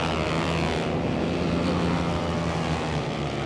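Flat track motorcycles race head to head at a Canadian dirt oval, their engines a loud, sustained roar of revving and droning that swells and shifts as the bikes pass, with no talk.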